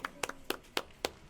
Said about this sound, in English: Big claps for the Viper